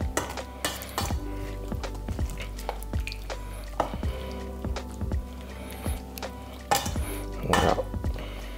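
A utensil stirs vegetables through boiling salted water in a pot, with scraping strokes and light metallic clinks repeating over a bubbling, sizzling bed, close and steady.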